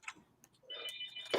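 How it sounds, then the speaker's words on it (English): A house phone gives a brief electronic ring, one short trilling burst after faint clicks, fairly quiet and close in an otherwise hushed room. "oh, that's my phone"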